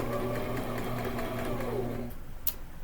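Sewing machine running a straight stitch, a steady close whirring hum that stops near the end, followed by a short sharp click.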